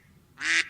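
A single short, nasal quack from a waddling mechanical wind-up toy duck, brief and fairly close, sounding alone with nothing else around it.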